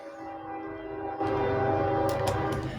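A train horn blares in a steady, sustained blast that swells louder about halfway through and holds to the end, close and loud with no talking.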